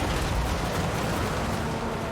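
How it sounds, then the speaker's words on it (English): Dense, continuous rumble of massed grenade explosions in a Total War: Warhammer 3 siege battle, a steady loud roar with small bursts but no clear separate blasts. "at least we can still see the explosion of all those grenades"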